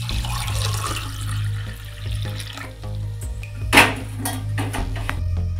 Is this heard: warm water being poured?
yes